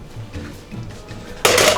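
A whole bag of frozen fries pours into an air fryer basket in one loud, dense rattling rush near the end, after a quieter stretch of handling.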